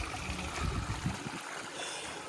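Feet splashing in cold, fresh stream water in a village near Chakwal, with broken sloshing bursts in the first half, then a steady low running-water wash.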